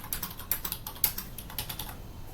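Rapid, uneven clicking of keys on a computer keyboard, close and fairly crisp, with bursts of keystrokes and brief pauses and no voices over it.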